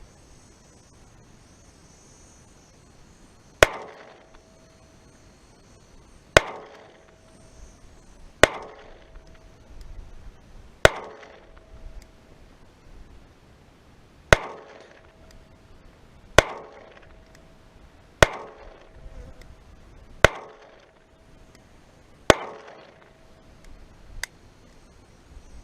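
Ten evenly spaced, sharp, loud gunshots from a .22 caliber pistol with a 3.5-inch barrel, fired outdoors every two to three seconds, each a crisp crack with a short ringing tail.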